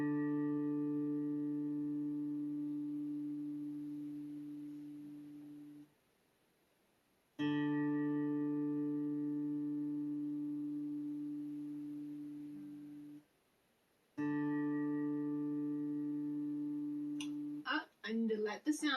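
Three sustained reference tones on the note D for perfect pitch training, each a steady harmonic-rich pitch lasting about six seconds and separated by short silences, followed by a brief burst of fluttering sound at the end.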